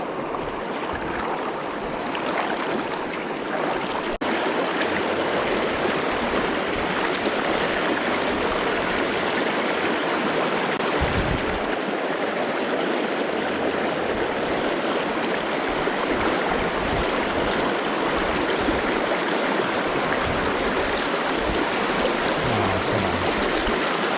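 Fast, quick-moving stream water rushing over rocks in Oregon, a steady broadband roar that stays loud and unbroken throughout, close by with no talking.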